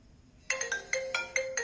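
A mobile phone ringtone plays after a short silence, a repeating bright electronic melody of short pulsed notes, clear and close, with the phone wrapped in steel wool.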